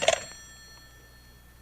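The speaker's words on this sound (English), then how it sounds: "It was the next afternoon, a Saturday, that the phone rang." A telephone bell rings in one short burst at the start, then its tone decays into quiet room hiss, with no talking.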